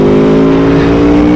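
A 2020 Aprilia Tuono motorcycle pulls in fourth gear, its engine a loud, steady drone with strong harmonic tones that hold even and close throughout, no voices present.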